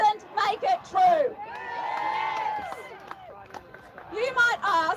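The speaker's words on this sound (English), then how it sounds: "why are we here standing up to speak against a crowd of people shouting us down?" A crowd at a street rally shouts and whoops loudly in overlapping voices, with cries rising and falling and some scattered clapping.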